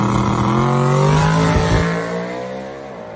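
A drag race car roars down the track, its loud engine climbing in pitch and then fading slightly as it pulls away.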